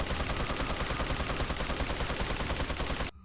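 Rapid, continuous gunfire in a Resident Evil video game, a loud, dense burst of shots running for about three seconds before stopping abruptly.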